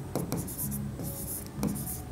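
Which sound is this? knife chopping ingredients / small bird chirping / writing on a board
writing on a board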